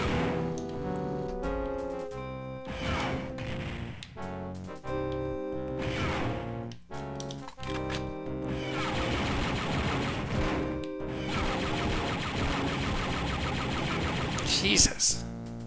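Guns fire in the video game Dark Forces: rapid bursts of blaster shots and crashing impacts in a dense, busy mix, with people talking over the action.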